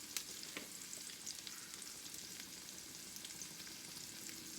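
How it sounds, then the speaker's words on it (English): Zucchini seasoned with salt, pepper and fresh thyme sizzles steadily in a frying pan, a continuous close crackle with occasional sharper pops and no voices. "My zucchini's been cooking for 2 or 3 minutes."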